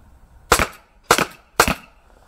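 An airsoft Glock 17 Gen5 pistol fires three sharp, close, loud shots about half a second apart, with quiet between them.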